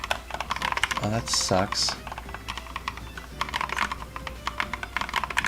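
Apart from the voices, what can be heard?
typing on a computer keyboard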